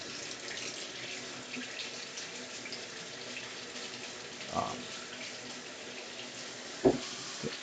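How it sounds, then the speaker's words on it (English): Hot water runs steadily from a kitchen tap in an even, close hiss, with a couple of soft clunks partway through. "My water running hot."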